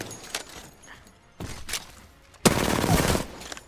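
Gunfire in the video game Apex Legends, with scattered sharp shots early on and then a loud sustained burst of rapid fire, close and dense.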